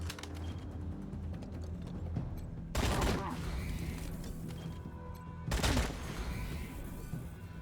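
Bursts of gunfire from the post-apocalyptic video game Wasteland 3, with two loud fusillades standing out over a steady backdrop of rattling shots and combat noise.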